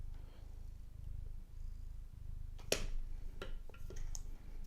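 A cat purrs steadily and close up, a low rhythmic rumble with a few faint clicks and taps on top of it.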